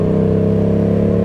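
A 1000cc motorcycle engine idles steadily nearby, a loud, even throbbing rumble with a regular pulse and no change in pitch throughout.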